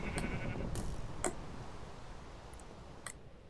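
Sheep bleating in the Minecraft SheepWar game, several short bleats and clicks scattered over a low background hum, fairly faint.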